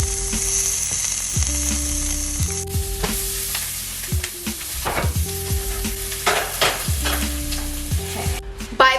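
Vegetables sauté in a pan for a spaghetti meal prep, with a steady sizzle and repeated scraping stirs throughout, set under a looping background melody.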